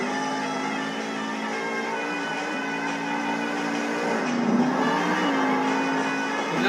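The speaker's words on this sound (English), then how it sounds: "Jamey's starting to drive around the track very fast, gaining speed right now" Monster truck in a stadium show in Anaheim, California, accelerating fast around the track, with a steady, loud engine roar whose pitch rises and shifts as it gains speed.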